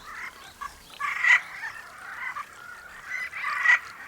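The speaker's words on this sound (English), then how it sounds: "The breeding ritual begins with the male frogs calling to attract females." Male Ezo brown frogs call in a breeding chorus, a nasal, clucking croak repeated in uneven bursts, fairly loud and close, with the calls overlapping at times.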